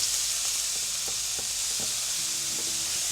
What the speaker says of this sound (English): In a separate pan, I've placed a little bit of avocado oil, and I'm gonna go ahead and place my drained cauliflower right in.